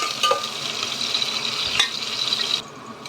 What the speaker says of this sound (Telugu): కడాయి పెట్టుకొని కొంచెం ఆయిల్ వేసుకున్నాము. ఇప్పుడు ఆనియన్ వేసేసుకున్నాం.